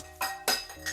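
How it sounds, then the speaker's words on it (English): A glass cup lid is accidentally dropped and clatters without breaking. Three bright, ringing clinks follow each other quickly and close by, each with a short shimmering decay. "Ooh, I accidentally dropped the lid."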